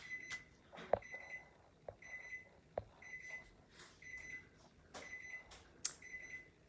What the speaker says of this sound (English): Sorry, it's the timer.